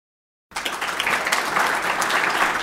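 Applause from a Rotary club audience welcoming a youth-music academy founder, breaking out after a brief silence and building into steady, dense clapping that holds for the rest of the moment.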